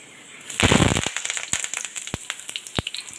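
Curry leaves hitting hot oil while poha is being cooked: a sudden dense burst of sizzling crackle, then scattered sharp pops that continue and gradually thin out, close and fairly loud.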